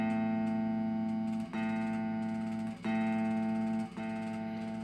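An open A string on a guitar is picked several times for tuning, each sustained note ringing evenly with bright overtones before the next pluck, about four steady, close strikes with no talking.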